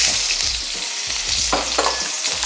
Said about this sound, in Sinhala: ඊළඟට මම මුලින්ම මේකට එකතු කරන්නේ ලුණු.